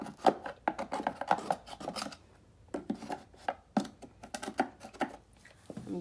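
A flathead screwdriver scrapes and rasps at dirty parts of a Hoover Dual Powermax carpet cleaner, in bursts of short, gritty strokes with brief pauses between, close and fairly quiet.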